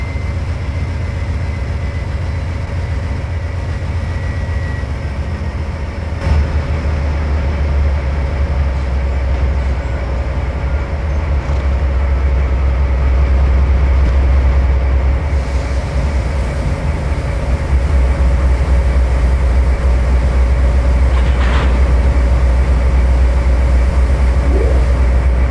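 A locomotive runs during a top speed test, producing a loud, continuous low rumble with steady rolling rail noise close by, with no pauses.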